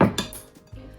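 A utensil knocks and scrapes against a bowl while mixing a farmer's cheese mixture for syrniki pancakes, a few close, quiet clinks and scrapes, the loudest at the start, with no talking.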